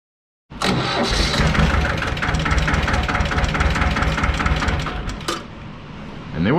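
A diesel truck engine cranks briefly after its glow plugs have warmed, then catches and settles into a loud, steady rumbling idle close by.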